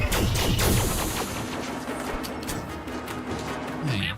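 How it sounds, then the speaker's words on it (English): Rapid bursts of gunfire from a space combat shooter game, dense and loud at the start and then settling into a steady roar of continuous fire and impacts with no pauses. "Enemy forces inbound. Great shooting, Commander."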